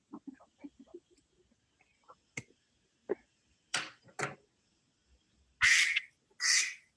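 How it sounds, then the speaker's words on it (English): A duck quack sound effect at a trivia game night: two loud, raspy quacks near the end, preceded by faint scattered clicks and brief quiet sounds. "there's a quack"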